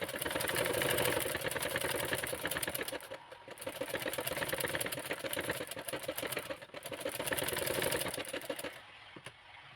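A sewing machine runs steadily, stitching blouse fabric from the top corner, with a fast mechanical whir and needle patter that briefly dips and pauses twice before resuming, close and loud with no talking.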